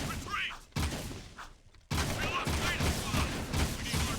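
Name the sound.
gunfire in the video game Jak II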